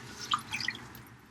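Salted cabbage for kimchi is rinsed under water, producing a brief run of soft dripping and splashing with a few bright drops over a low, steady background, without anyone speaking.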